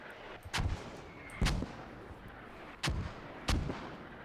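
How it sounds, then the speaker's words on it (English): Mortar barrage in a competitive shooter match, four heavy booming blasts spaced about a second apart with deep low thumps, each rumbling briefly before fading, between quieter background noise. "Those Mortars are really doing the job. Hub is even mortared down after a lot of barrage."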